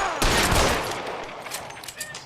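Loud, close gunfire in the video game L.A. Noire, a sharp blast opening a rapid volley of shots that trail off into a ragged tail of echoing reports.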